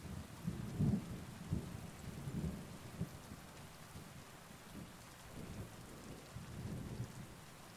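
Steady rain hisses across the whole stretch in a medieval Bohemian setting in Kingdom Come Deliverance 2, with low rumbles of thunder rolling underneath, quiet and distant, no voices.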